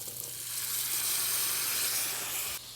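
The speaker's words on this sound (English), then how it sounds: "our carrots have simmered for about a minute on the stovetop" Carrots in vinegar sizzle and simmer in a pan on a stovetop, a steady, close, bright hiss with a faint low hum beneath, cutting off abruptly just before the end.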